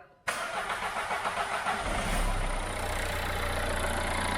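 A Dacia Logan's engine cranks and catches after a short silence, then settles into a steady low idle, close and fairly loud with no voices.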